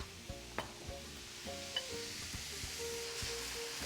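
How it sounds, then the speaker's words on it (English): Sauce hits sliced zucchini in a hot pan for a Pad Thai spring roll filling, sizzling steadily with scattered clicks and scrapes of stirring, close and alone. "Okay, now let's add our sauce."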